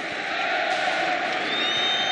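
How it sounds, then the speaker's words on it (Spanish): Basketball crowd in the stands at a Spanish ACB league game, Obradoiro versus Estudiantes, roaring and cheering in a steady, dense wall of noise for the whole stretch, with no clear single voices standing out. "Berros de Merri na bancada"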